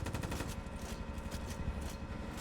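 Gunfire through walls in a tactical shooter video game: a fast, steady stream of muffled automatic shots rattles throughout at moderate volume, with no pause.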